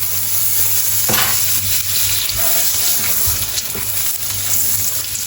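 Butter and a drizzle of oil heating in a pan for creamy shrimp linguine give a steady, close sizzle with a faint hum, a few clinks and light stirring, and no talking.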